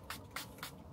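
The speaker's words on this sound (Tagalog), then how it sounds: "i-spray ko na" Three quick hisses of a facial mist spray bottle, close and soft, each a short airy burst at an even pace in an otherwise quiet room.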